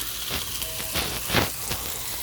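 Food sizzles steadily in a seasoned frying pan, with scattered sharp pops and crackles bursting through the close, continuous hiss.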